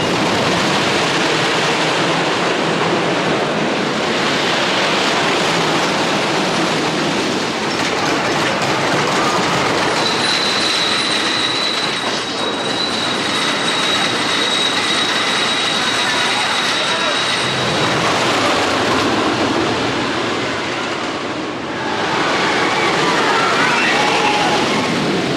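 A roller coaster train runs at PortAventura, giving a loud, steady rumbling roar with rattling clatter for nearly the whole ride and one brief easing near the end.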